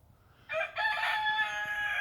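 A rooster on a homestead lets out a loud, sustained cock-a-doodle-doo close by, starting after a brief quiet pause and holding to the end, with faint chicken noise beneath.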